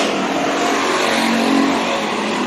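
Stock race cars roar around Bakersfield Speedway during a heat race, a loud continuous engine drone with steady revving from several nearby cars, holding close and dense throughout.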